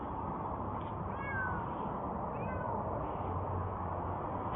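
A cat meows in a few short, rising cries heard over a steady, loud background hiss, with no talking.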